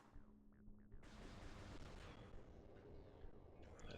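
A missile launching in Metroid Prime 2: Echoes, one sharp burst near the one-second mark followed by a loud, sustained roaring rush that carries through to the end, with no voices present.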